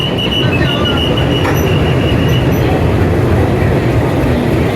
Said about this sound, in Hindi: तो शंट हो गई है हमारी ट्रेन यहाँ पे प्लेटफॉर्म नंबर 10 पे।